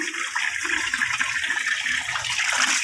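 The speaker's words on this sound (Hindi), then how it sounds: "अभी मैं इसमें फ्रेश ताज़ा सा पानी डालूँगी" Fresh, cold motor-pumped water pours steadily into a tub of freshly harvested mint, a continuous close splashing rush with no voices.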